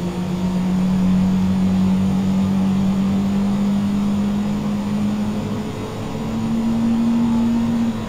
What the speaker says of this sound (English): Starting engine 2.